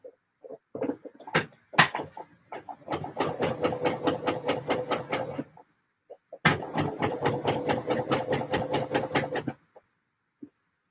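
A sewing machine runs basting stitches in two steady bursts of rapid, even needle strokes, each lasting a few seconds, with a pause between them, near and fairly quiet.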